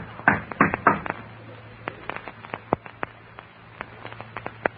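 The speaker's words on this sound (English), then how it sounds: "You knock until somebody answers." Knuckles rap on a door in a series of sharp, close knocks, one quick cluster followed by scattered irregular taps over a faint background hum.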